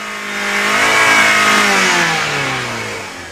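A Toyota car engine revs loudly and continuously with its gas pedal jammed down by a wrong-sized all-weather rubber floor mat, the pitch rising and then sagging as it runs close and unbroken.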